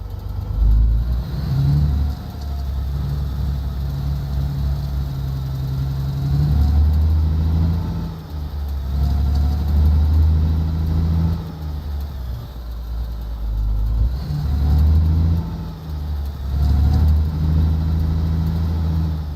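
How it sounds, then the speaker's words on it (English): A heavy truck engine in the Alaskan Road Truckers driving game rumbles loudly and steadily, its low drone swelling and easing in several revving surges over the stretch with no talk. "I can feel the engine in my steering wheel."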